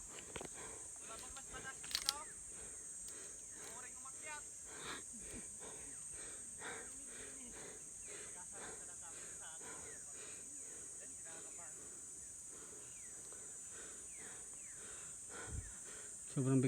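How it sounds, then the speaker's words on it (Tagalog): Heavy, labored breathing of tired hikers climbing near the peak of Mt. Bangkay, close and rhythmic over a steady insect-like outdoor hiss, with occasional low murmured talk. "Sobrang bigat na po ng paghinga natin."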